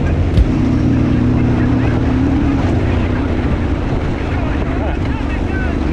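Yamaha Ténéré 700 motorcycle riding off-road in the Pyrenees, a loud continuous engine drone with a steady pitch, mixed with wind buffeting on the microphone and a short knock near the start, while a voice talks.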